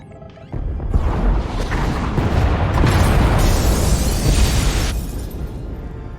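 An explosion tears through the escape pod bays in the Star Wars: The Old Republic game, a loud sustained roaring blast with crashing debris that swells for several seconds and then tapers off.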